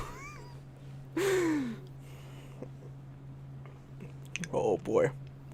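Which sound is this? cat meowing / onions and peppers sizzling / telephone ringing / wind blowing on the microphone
cat meowing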